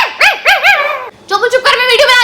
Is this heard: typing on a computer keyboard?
no